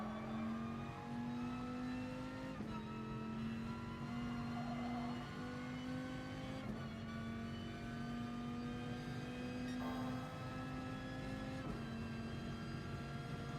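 A Viper race car engine in GT Sport at Willow Springs drones steadily at moderate volume, its pitch broken by a few distinct gear shifts across the run.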